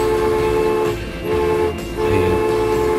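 A train in the Transport Fever 2 video game, a loud, continuous rumble with a sustained tonal hum like a horn or engine drone that briefly dips twice before resuming, heard alone without talk.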